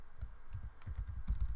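Soft, quick keystrokes on a computer keyboard as code is typed, light irregular clicks in small bursts, close but fairly quiet over a faint background hum.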